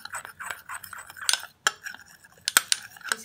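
A spoon clinks and scrapes against a small bowl while stirring a raw milk face mask mixture, quick irregular metallic taps up close, no talking.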